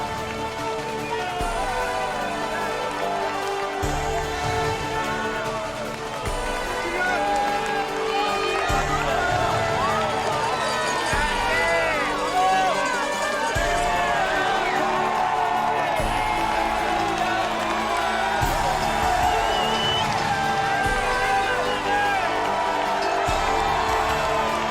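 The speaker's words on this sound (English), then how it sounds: "At Chamonix, it is an impressive crowd which waits for the 23-year-old champion" A large crowd at the UTMB ultra-trail finish in Chamonix cheers and whoops continuously, a dense, steady roar of applause and shouting with music and voices mixed in.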